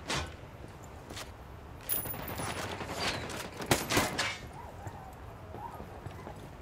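Mounted turret gunfire in Ghost Recon Wildlands, several loud sharp shots with echoing tails spread irregularly over a few seconds, set against a faint background and a brief far-off voice.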